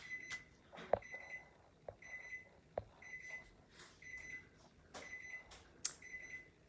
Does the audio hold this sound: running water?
no